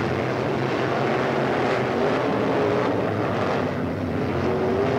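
Race car engines at Hickory Speedway, a steady, loud droning roar from several cars circling the track, holding a sustained rumbling note with a slowly rising engine tone across the whole stretch.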